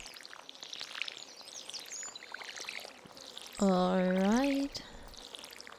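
Watering crops with a watering can in the Stardew Valley video game, a short pouring splash sound effect of about a second, heard once over quiet game ambience after a brief spoken word.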